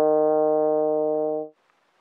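A single sustained trombone note, E-flat played in third position, held steady and loud for about a second and a half before cutting off into near silence.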